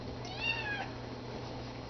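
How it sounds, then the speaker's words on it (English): A cat meows indoors, a drawn-out, rising and falling call in the first second, fairly close, with a steady low hum underneath and no talking. "That cat. Wow, he's really talking tonight."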